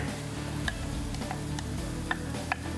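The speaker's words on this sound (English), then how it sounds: "We'll add the onions here." Onions frying in ghee in a pan with garlic and ginger, a steady broadband sizzle held throughout with a few sharp ticks and pops near the start and end.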